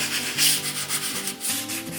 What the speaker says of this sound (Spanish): Estoy lijando los agujeros que he hecho con la broca del 3.